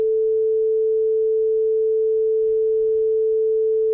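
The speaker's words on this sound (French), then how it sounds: "Il permet de donner une hauteur précise qui est donc le La et qui se situe à 440 Hz, une fréquence bien précise." A tuning fork rings the note A at 440 Hz as a pure, steady, sustained tone that holds at an even loudness for about four seconds, with nothing else heard.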